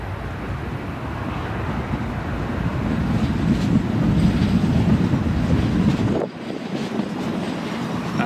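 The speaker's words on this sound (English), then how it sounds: "That's another metro train you can just hear in the background as well." A metro train rumbles past near Newcastle International Airport, a sustained rolling roar with rail clatter that builds, then drops off abruptly near the end.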